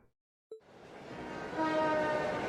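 Train ride in the video game Trails of Cold Steel: a brief horn toot, then a rolling train rumble that swells and holds steady, with a faint whistle tone riding over the carriage noise.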